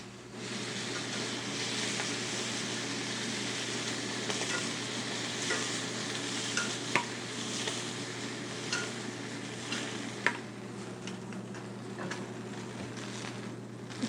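Chicken livers frying in a pan of fat, a continuous bright sizzle with occasional small pops and faint clicks of a utensil against the pan, steady and close, no talk.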